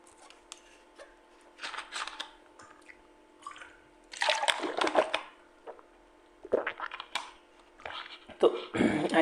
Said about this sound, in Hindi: मैं कहता थोड़ा पानी पी लूँ 2 मिनट।